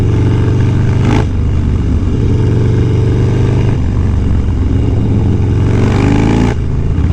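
Several motorcycles cruise loudly together on a group ride through Bear Mountain, a steady close engine drone with shifting pitch and passing surges from nearby bikes, no voices over it.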